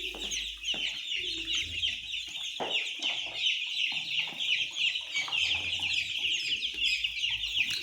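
Several chickens clucking in their coop after being given feed and more room, a busy, close chorus of overlapping clucks and short squawks running continuously without speech.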